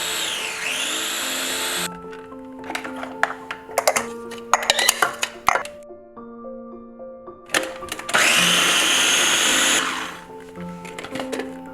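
A blender grinds carrot, garlic and hot pepper in loud, whirring bursts that start and stop, with short pauses and clattering between runs and a long, strong blend near the end.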